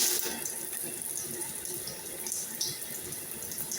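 A shower runs steadily, water hissing and splashing continuously at close range with slight flickers in the spray, alone without voices.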